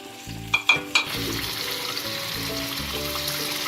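Yogurt added to cooked-down tomatoes in a karahi for spicy chicken karahi, with a few sharp clinks at the start, then a steady loud sizzle and frying hiss.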